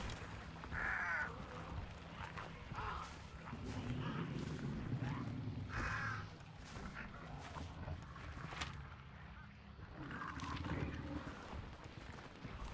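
Crows caw in a game world of zombies and monstrosities, a few harsh calls spaced out over a steady low rumble and muffled ambient noise.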